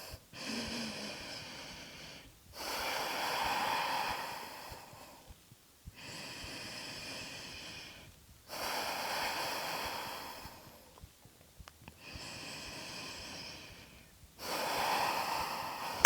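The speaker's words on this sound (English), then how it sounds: "So take 3 deep breaths." Slow, deep breaths during a vinyasa yoga class: four long, airy inhale-exhale cycles separated by short pauses, close and steady, no speech.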